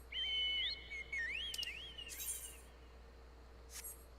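A video game pet-summoning whistle sounds in rising and falling trilled tones, bright and clear, with a few brief chirps after it.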